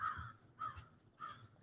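Crows caw outdoors behind a person sitting still in the morning: three distinct calls about half a second apart, faint and somewhat distant over quiet low background noise.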